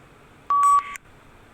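A single short electronic recording-start beep from PTE read aloud speaking practice, a clean tone followed by a brief higher multi-tone chirp, alone in near silence.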